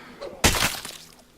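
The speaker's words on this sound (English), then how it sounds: "So, quickly bash this in, and hopefully take out the zombie before he can attack me." A sudden loud bashing crash in State of Decay as a door is bashed in to take out a zombie, followed by a fading rattle and a small knock at the end.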